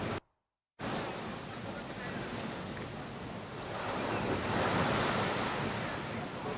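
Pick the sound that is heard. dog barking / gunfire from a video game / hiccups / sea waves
sea waves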